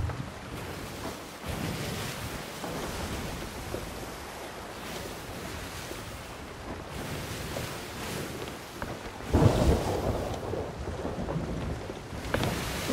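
Stormy weather at sea in the pirate game Sea of Thieves: steady rain and rolling surf under low rumbling thunder, with a louder, nearer thunderclap swelling partway through; no one talks.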